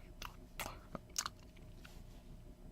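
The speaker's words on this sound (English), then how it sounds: "gave the grass between her hooves a tentative bite," A pony bites and chews grass, a few quiet, close crunching bites in an uneven rhythm over a soft background.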